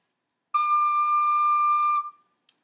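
A single clear, pure recorder note D held steadily for about a second and a half, then fading, followed by a tiny click.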